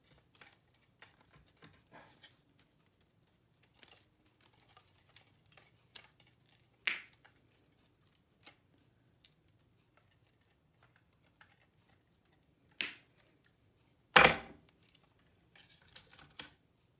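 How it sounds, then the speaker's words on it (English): Scissors or snips cutting a few branches off a dollar-store willow wreath, giving sparse, quiet snips and rustles with a couple of sharper cuts near the end, no talk. "I'm just going to unwrap it a little bit here and cut off a couple branches"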